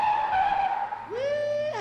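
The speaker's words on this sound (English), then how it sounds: "slamming on brakes and speeding up" Car tires skid and squeal as brakes are slammed, a loud sustained screech followed by a rising engine or tire whine as the vehicle speeds off, with no talk over it.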